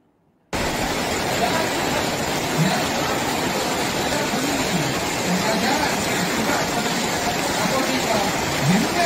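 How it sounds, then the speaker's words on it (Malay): Steady rain on a camp with wet tents, a dense continuous hiss that starts abruptly and holds evenly loud throughout, with faint low murmurs underneath. "Suasana hujan"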